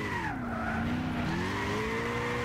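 Tires squealing as a car drifts in Gran Turismo 6 on soft suspension, a steady high screech with wavering pitch over engine drone, loud and continuous throughout.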